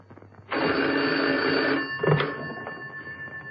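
Telephone bell rings in a steady burst for over a second, then a shorter second ring follows, clear and fairly close, with no talking.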